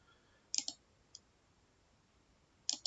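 Mouse clicks on an online registration form: a quick double click, a single faint click, then another double click, crisp and close in an otherwise quiet room.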